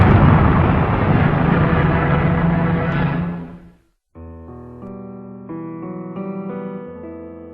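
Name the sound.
Redstone rocket launching the chimpanzee space capsule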